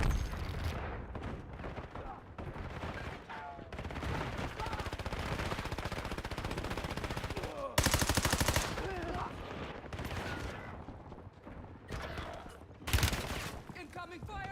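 Sustained automatic gunfire in a video game, loud dense rattling volleys with several sharp heavy bursts and brief pauses between them.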